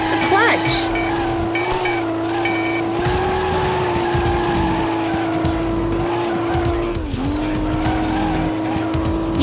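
Race car engine screams and revs in a PS2 drifting game after a clutch kick, with long tire squeals and skidding over the loud, sustained engine tone, brief dips as revs shift.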